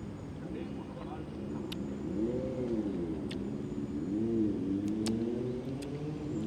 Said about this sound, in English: This dude is going by with a scooty that's got like 5-inch wheels on it.